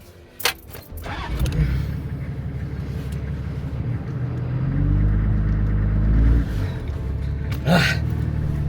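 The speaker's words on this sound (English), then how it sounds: "I'm pushing the vehicle so hard that I stalled it out" A stuck vehicle's engine on an abandoned track in a storm labours hard during winching, a deep building rumble that swells and strains before dropping off, with a sharp knock early and a gasp-like burst near the end.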